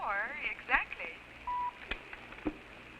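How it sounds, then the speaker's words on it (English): A speaking clock's time signal sounds as one short, steady pure beep in the middle, set among brief vocal chirps and faint background noise. "When you hear the tone, the time will be 10:24 exactly."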